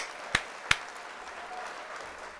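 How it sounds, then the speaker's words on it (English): A short burst of canned applause played as a sound effect on a workshop livestream: two sharp claps, then a soft, steady patter of clapping that fades out, with no talking. "let's hit the applause there"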